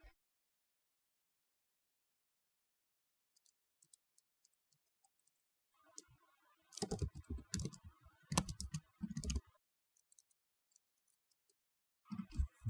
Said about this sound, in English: type in the passwords.